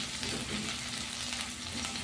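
Garlic fries in hot oil as the base for a beef and vegetable soup, giving a close, steady, even sizzle that runs unbroken through the whole moment.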